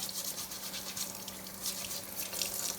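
A kitchen tap runs steadily into a sink while summer squash is scrubbed under it, with a continuous hissing splash that rises and falls slightly as hands move through the stream, moderately close and fairly quiet.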